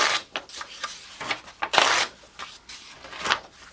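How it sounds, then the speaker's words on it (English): Several sheets of old book pages are torn out one after another, with about eight quick, crisp, close ripping bursts separated by brief pauses. "So let's just tear off about 10 sheets."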